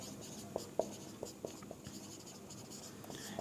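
Chalk or marker tapping and scratching on a board while a word is written out, a few sharp strokes followed by softer scratching, close but quiet, with no talking.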